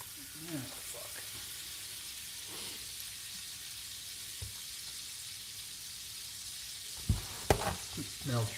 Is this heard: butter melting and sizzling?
yes